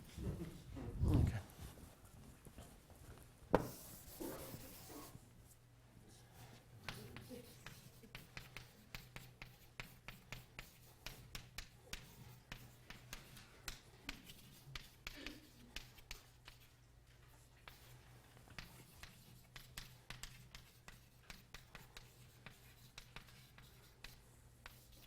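Chalk or marker taps and scrapes against a lecture-hall board in rapid, irregular strokes through most of the stretch, fairly faint against the room, with brief talk and a thump near the start.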